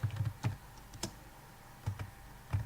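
Light, irregular keystrokes on a computer keyboard, clicking close and soft in short clusters with brief pauses between them, with no voices.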